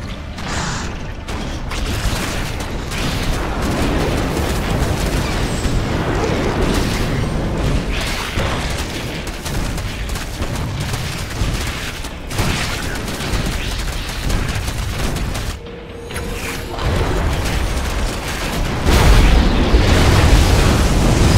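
Explosions and rumbling blasts roll on continuously as the Eradicator is destroyed in StarCraft, a loud, dense barrage with brief dips and mechanical clatter throughout.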